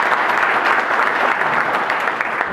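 An audience claps steadily and densely in a fundraiser hall to welcome a guest speaker, the applause loud and sustained throughout with no voices breaking through.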